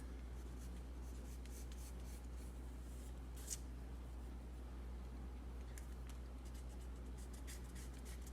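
Faint pencil strokes on paper while a fox is sketched, soft scratchy rubbing in short repeated passes over a steady low background hum, close to the page.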